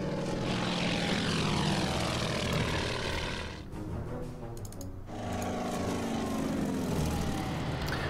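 A propeller bomber's engine drones loud and close in the WWII strategy video game Order of Battle, a steady roar that briefly dips and thins before swelling back to full strength.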